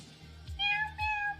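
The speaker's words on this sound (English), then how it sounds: "this music really sounds like cats" Pokemon Blue game music with chiptune tones that sound like cats meowing. Two bright, wavering meow-like notes come in close succession over a low bass line.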